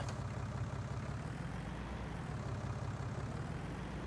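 Steady low engine drone of a tractor in Farming Simulator 19, a constant idling rumble held evenly and alone throughout, with no talk over it.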